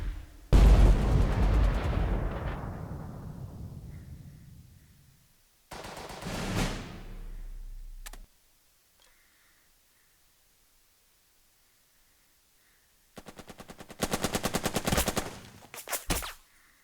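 Mortar fire in the strategy game Burden of Command lands as heavy booming blasts with long decaying rumbles, separated by quiet gaps, followed by a rapid crackling burst of gunfire near the end.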